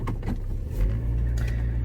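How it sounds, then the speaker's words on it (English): A car engine runs and revs low as the vehicle pulls away early in the morning, a steady close rumble with a slight rise in intensity partway through. "And I am getting in my car."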